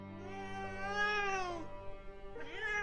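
A drawn-out, convincing cat meow voiced by an unseen creature imitating a cat, rising and falling in pitch, then a second shorter meow begins after a brief pause, close and clear with no other sounds.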